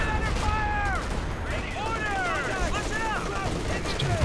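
Bursts of machine gun fire in a Company of Heroes 2 battle, rapid crackling rounds with whining ricochet-like tones, mixed with other gunfire and a voice talking over the action.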